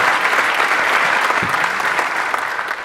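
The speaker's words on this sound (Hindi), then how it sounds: "इस बात पे ताली बनती है।" A studio audience at an interview with a tea café founder gives steady, dense applause that stays loud and fairly close throughout, with no talk over it.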